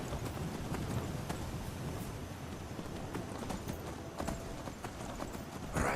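Horse hooves clip-clop in a steady trotting rhythm as a steed is ridden in the video game Skyrim, moderately loud and continuous, with a brief louder thump near the end.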